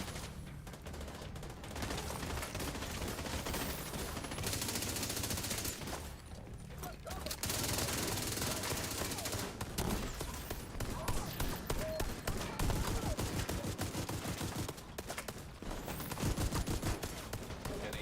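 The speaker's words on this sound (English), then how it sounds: "This guy's using a sheriff build, which is crazy. You just hear him like thump, thump, thump, thump" Rapid gunfire from a sheriff build in The Division 2, dense bursts of shots with brief pauses, loud and continuous, with a voice talking over parts of it.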